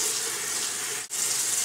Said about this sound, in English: So I'm going to turn on my water